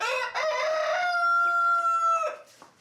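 A rooster in a backyard chicken coop crows once, close and loud, in one long drawn-out call that rises and then fades at the end.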